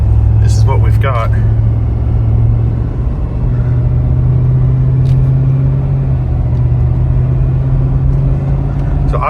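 Ford 6.7 Powerstroke diesel pickup truck on stock tuning, idling with a deep steady rumble close by, running continuously while someone talks over it.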